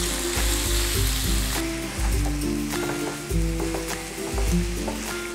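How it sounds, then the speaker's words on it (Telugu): Ground wood apple chutney tipped into a hot tempering pan on low flame, setting off a loud, steady sizzle and crackle of frying that carries on without speech throughout. "మనం గ్రైండ్ చేసుకున్నాం కదా ఆ పచ్చడిని ఈ పోపులో వేసుకోవాలి."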